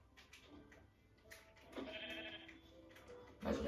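Sheep in a Minecraft hardcore world bleat a few times in short nasal calls, moderately loud against soft game ambience, with a louder bleat near the end.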